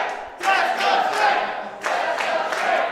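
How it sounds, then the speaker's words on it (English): A wrestling crowd at an independent Relentless Wrestling show chants in unison, in two loud bursts of massed voices with a pause between them, filling the venue. "we're going to get test of strength chant here from the crowd"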